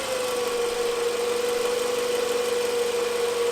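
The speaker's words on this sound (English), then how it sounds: "We noticed that the noise seemed to be coming from the alternator area." A car engine idles steadily in a workshop with a persistent whine from the alternator area riding over the low rumble, constant and close with no speech.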